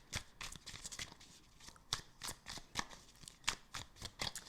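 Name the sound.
shuffling oracle cards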